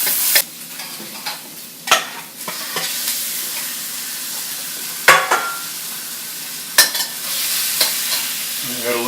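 Garlic and ginger sizzle steadily in hot oil while being stirred, with sharp scraping clatters of a utensil against the pan at intervals, close and without talk, during a chicken and broccoli stir-fry.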